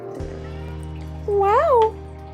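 A pet cat lets out a single rising-and-falling meow, fairly close, over a steady low hum in a quiet room.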